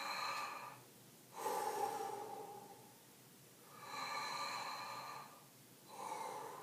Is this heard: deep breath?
yes